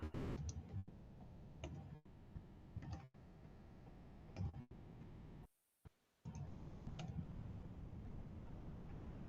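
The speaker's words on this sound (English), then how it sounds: "So I'm just clicking on each element, hitting the center element." A computer mouse gives a few crisp, isolated clicks spaced a second or two apart while elements are aligned in a course-design app. The clicks are quiet and close against a faint steady hiss, with a brief dropout midway.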